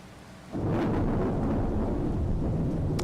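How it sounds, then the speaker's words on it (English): Thunder rumbles in a Farming Simulator 25 storm, a deep roll that swells in suddenly and keeps rolling over steady rain noise. "maybe does something different with that thunder noise"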